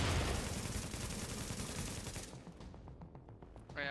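Rapid bursts of gunfire from The Division with a Warlord Banshee build, dense and loud for a couple of seconds, then thinning into scattered separate shots and a final sharp crack.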